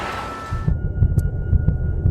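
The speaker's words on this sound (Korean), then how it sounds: "배심원단 중 한 명의 심박이 빨라지고 있었습니다" A quickening heartbeat sound effect thumps low and steady, with about eight soft muffled beats in regular rhythm after a brief hum fades out.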